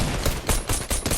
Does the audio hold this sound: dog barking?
no